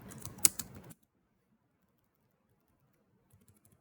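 Rapid keystrokes on a computer keyboard during a Windows/Linux event-analysis command-line session, a dense burst of clicks for about a second with one sharper tap, then silence, and a few faint scattered taps near the end.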